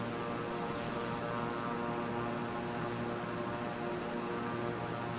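A steady, loud drone from a propeller airplane engine in Microsoft Flight Simulator, continuous and unchanging throughout with no voices.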